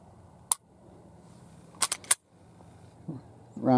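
XD9 pistol trigger being worked by hand, a single sharp click followed after a pause by a quick cluster of three crisp clicks, close and dry, with a brief voice at the end.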